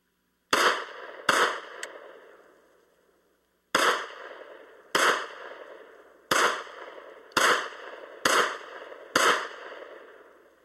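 Seven sharp, loud Glock pistol shots at a shooting range, fired singly with roughly one-second gaps after a short pause, each crack ringing off briefly.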